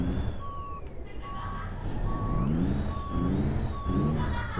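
A semi-truck backs up in American Truck Simulator, its reversing alarm beeping in a steady, evenly spaced series of five tones over a loud, continuous diesel engine rumble with shifting pitch.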